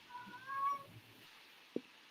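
A house cat meows once in the background, faint and brief, set against a quiet room with low broadcast hum.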